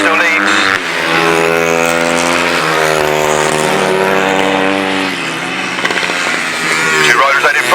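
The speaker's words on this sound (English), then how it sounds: "Two riders out in front, both using motocross engines." Motocross engines in 250cc grasstrack solo bikes racing past nearby, a loud continuous droning whine with shifting pitch as the riders accelerate, under steady commentary.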